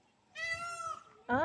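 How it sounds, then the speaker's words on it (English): A peacock calls out twice, one loud nasal wail followed by a shorter sharp cry, sounding close, with a person's brief exclamation in between. "that's the sound of a peacock."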